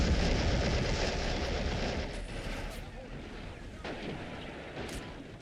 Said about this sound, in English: He's just firing his HE shells, and he's firing it at the indestructible cover.